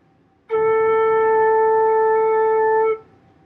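Flute sustaining a single steady note A for about two and a half seconds, clear and close with a clean start and soft release, played alone.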